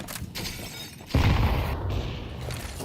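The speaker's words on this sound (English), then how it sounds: "Window smashed open." A window shatters in a CS:GO match, a sudden close burst of breaking glass followed by a lingering noisy rumble of gameplay.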